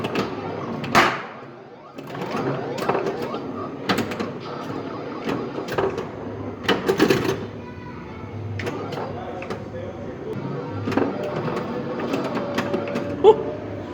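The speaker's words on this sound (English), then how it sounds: "This is a really vintage pinball machine." A vintage pinball machine plays in a toy exhibit at a public museum, producing irregular mechanical clatter, sharp knocks and thumps with busy rattling between them, while people talk nearby.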